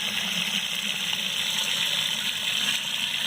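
Water running from a faucet into a tank being filled, a continuous near gushing splash that holds steady without pauses and with no voices.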